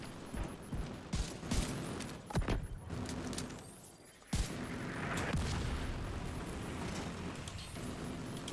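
Rapid bursts of gunfire crackle through a firefight in the video game The Division 2, with dense overlapping shots and mechanical clatter coming in uneven volleys, then a short lull before steady combat noise returns.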